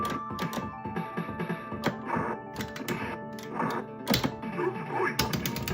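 A spinning star kick in Street Fighter on an arcade cabinet lands as a rapid flurry of punchy thumps and impact hits, mixed with other close game effects and clattering button presses.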